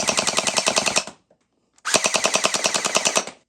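A Nerf Pro Gelfire X MrBeast Edition gel blaster fires two fully automatic bursts of rapid, evenly spaced mechanical pops, each lasting about a second, separated by a short silence, loud and close.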